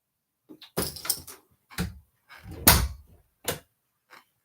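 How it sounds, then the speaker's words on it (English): A household door being closed again, a run of separate knocks, bumps and rattles with short quiet gaps, ending in one louder clunk and a faint tap. "Do you want to try closing the door again and this time not with an attitude?"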